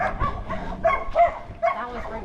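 Several dogs bark and yip in short overlapping bursts around an abandoned house in the Philippines, fairly close and loud, with a voice speaking underneath them.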